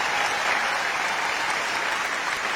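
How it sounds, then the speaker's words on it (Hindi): Audience at a Hindi-language political speech breaks into loud, dense applause, a continuous wash of clapping that holds steady for the whole stretch without any voices over it. "भाइयों और बहनों, ताली बजनी चाहिए कि नहीं बजनी चाहिए?"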